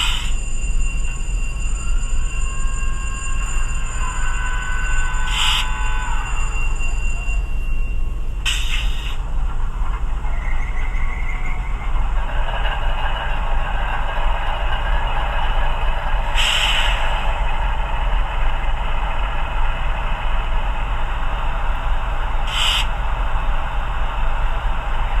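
HO scale ScaleTrains ET44AC Tier 4 GEVO model locomotive starting up, with a steady low diesel rumble and whine under repeated bright chimes and tonal bursts, loud and close with no talking.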